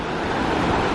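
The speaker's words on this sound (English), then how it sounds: "Alright, Ruby Beach." Surf washing onto Ruby Beach in Olympic National Park at low tide, a steady broad rush of breaking waves with wind noise, loud and continuous over a brief second.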